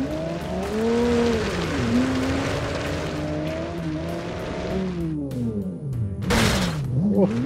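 Car in the video game Automation driving over a big jump, engine revving and dipping with sweeping pitch changes, then a sharp burst of impact noise near the end; loud and close.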